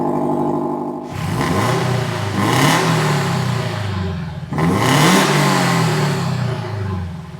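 A drift car engine revs hard twice with rising and falling whines, running close and loud between the revs, after a brief idle at the start.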